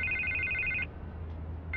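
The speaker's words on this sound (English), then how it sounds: "I can't get the phone to stop ringing." An old-style telephone rings in Batman: The Telltale Series, a bright electronic trill that repeats after a short gap over a low, steady background hum, with no one talking.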